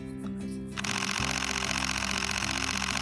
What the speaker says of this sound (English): When you shoot in JPEG, it never stops, so it goes as if you have a machine gun in your hands.